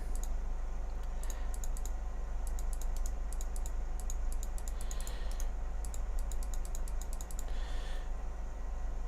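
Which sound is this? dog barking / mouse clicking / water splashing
mouse clicking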